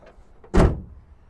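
2024 GMC Canyon AT4 truck bed storage compartment lid shut with a single solid, close thud, preceded by faint clicks of the latch.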